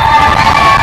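A stadium crowd at a 2019 Tampa vs. Lynn women's soccer match cheers and shouts loudly and continuously during a t-shirt toss, with children's voices and whoops mixed into the roar.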